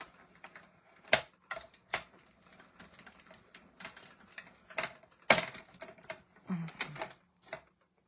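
A hand-cranked die-cutting machine drives stacked plates through to cut a paper butterfly, giving irregular clicks, clacks and ratcheting thumps with brief pauses, close and moderately loud.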